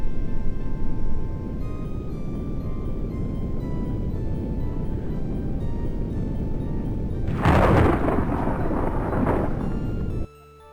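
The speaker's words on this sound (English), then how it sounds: "Your ship arrives in the midst of a terrible storm." Storm ambience in the Death Gate adventure game as a ship arrives: a steady low rumbling roar of wind and rain, then a loud thunder crack and rolling boom near the end before a sudden cutoff.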